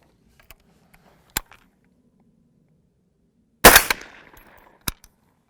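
Rifle shots fired during a chronograph velocity test, a few sharp cracks spaced seconds apart, one loud close report with a ringing tail among quieter bangs and clicks, no talking.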